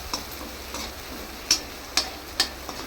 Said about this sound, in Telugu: చూడండి, ఫ్రై అవుతుంది.